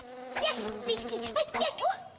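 High, whining insect buzz like mosquitoes, rising and falling in pitch with several overlapping swoops, steady and close throughout with no talking.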